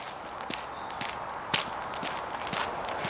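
Footsteps crunch at a steady walking pace on the gravelly bed of a disused railway line, close and moderately loud over a soft outdoor background hiss, with no talking.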